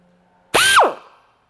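A power drill fitted with a single-cut carbide bit spins up during a supercharger install on a Nissan 350Z or Infiniti G35, one short, loud whirring burst that rises in pitch and winds down.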